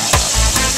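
Barbecue-sauced pork back ribs sizzle loudly on a hot grill in a close, steady hiss, with a couple of brief louder crackles.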